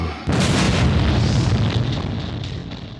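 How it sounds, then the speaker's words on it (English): A big fiery explosion as an oil-covered planet is set on fire: a sudden loud boom that bursts in and then rolls on as a long, slowly fading roar, with no talking over it. "And we see a magnificent explosion."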